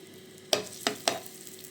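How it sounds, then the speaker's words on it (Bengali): Crushed garlic fries in hot mustard oil with a steady sizzle, punctuated by three quick scraping clacks of a spoon stirring through the pan. "এই তো রসুনটা খুবই সুন্দরভাবে ভেজে নেওয়া হয়ে গেছে, কালার হয়ে আসছে।"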